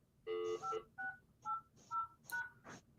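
A quiet series of about six telephone keypad tones beeps out one after another in an uneven rhythm, faint and close, with soft background noise and a muffled voice near the end.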